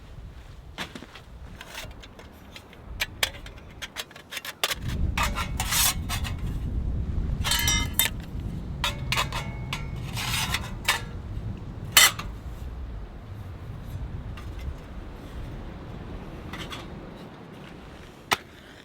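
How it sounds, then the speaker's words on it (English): A OneTigris titanium mini wood stove is set up with metallic rubbing, light clinks and scraping of thin titanium parts, close by, with scattered sharp taps and a louder rustling stretch in the middle, and no talking. "Now let's set this stove up."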